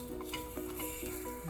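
Moong dal pancake balls frying in a covered pan give a steady, soft sizzle with light crackling throughout, close and continuous with no talking.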